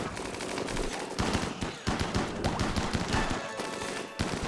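Rapid gunfire in Rimworld, a dense clatter of overlapping shots and machine-gun bursts at close range with no pauses for several seconds.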